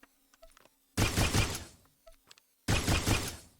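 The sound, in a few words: Obscurity weapon firing in SWTOR video game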